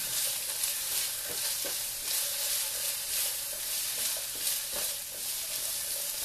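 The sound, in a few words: rice and vegetables being stir-fried in pan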